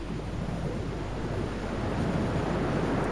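Stormy wind and crashing surf along the coast in the video game Dear Esther, a steady, dense roar filling the whole stretch without letup.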